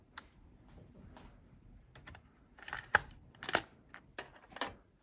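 Mechanical clicks and clunks from a Nakamichi TD-700 or TD-500 cassette deck ejecting a stuck tape: scattered light ticks, then a cluster of sharper loud clacks near the end.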